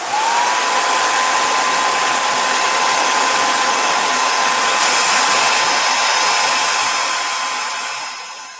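A heat tool blows steadily over a card-making piece, a loud continuous fan whir and hiss of hot air that holds for about eight seconds before winding down.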